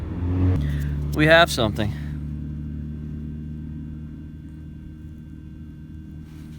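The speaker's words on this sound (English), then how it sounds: "I'm gonna let this car get by" A car passing on a road beside a metal detecting site, a low rumbling engine swell that peaks and fades within a couple of seconds, with a person talking over it.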